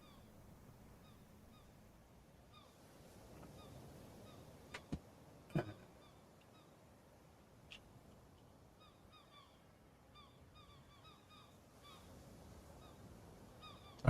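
Seagulls cry faintly and repeatedly above a soft ocean hush in the sailing game Escape the Pacific, with a couple of louder sharp knocks around the middle.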